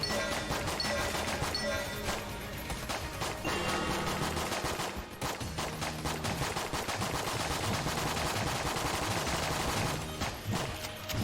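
Rapid, continuous video-game gunfire from Enter the Gungeon, a dense stream of shots and bullet bursts over busy game music, loud and steady throughout without pause.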